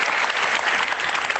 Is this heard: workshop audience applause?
yes